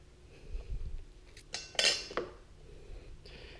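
Metal utensils clink against a cooking pot as ingredients for a spicy tangy fish stew go in: a few scattered clanks and scrapes, moderately near, after some soft handling noise, with no talking.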